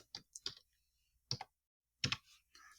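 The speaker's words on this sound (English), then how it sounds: "I see you typing to me. You just typed, I love you lots." Sparse, crisp clicks of keys on a computer keyboard, close and quiet, coming in small separated clusters with silent gaps between them.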